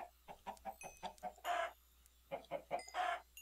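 Minecraft chicken in an FTB modpack being slaughtered: a run of short, evenly spaced clucks followed by a louder squawk, more rapid clucks and a final squawk, all close and clear with no talking.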